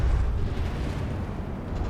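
Shells striking a battleship turret cap in a naval combat game, heard as a low, rumbling explosive roar that swells and then lingers heavily, fairly loud and with no talking.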